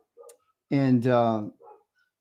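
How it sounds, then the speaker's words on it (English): Dogs barking outside, heard as a muffled, drawn-out whining howl of about a second between short faint yips, fairly distant and heard alone. "My dogs are going crazy out there."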